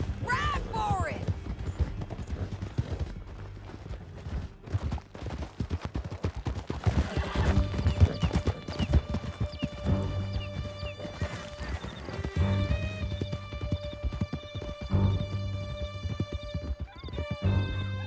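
Horses gallop in Red Dead Redemption 2 with steady clip-clop hoofbeats, whinnies and scattered gunfire, under shouting voices and a music score for the whole stretch.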